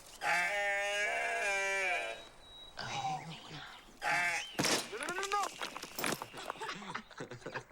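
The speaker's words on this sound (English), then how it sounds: "Hey, baby goat." Close, clear bleating from a baby goat, one long quavering cry followed by several shorter calls mixed with nearby voices.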